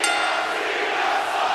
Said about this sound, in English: listen to the crowd chanting for me